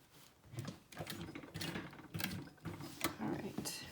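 A sewing machine turned slowly by hand around a tight curve while stitching a small backpack, giving repeated mechanical whirring and clicking strokes in uneven pulses, close up.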